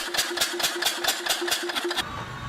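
A vintage Mars single-cylinder engine, once used in the Queensland cane fields, chugs in a steady, rapid rhythm of about nine close, fairly loud beats before cutting off, leaving a fading hum.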